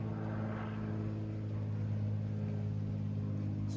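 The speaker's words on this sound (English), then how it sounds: "I'm going ahead and allowing this plane to fly by." A plane passes overhead as a steady droning engine hum, loud and constant across the whole stretch with no other sounds over it.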